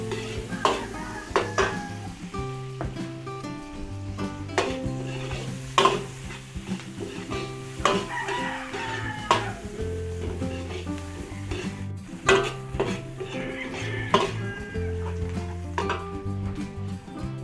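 Ground pork sautés with garlic and onion in a pan, a steady sizzle broken by frequent scraping stirs and clinks of a utensil against the metal, close and continuous.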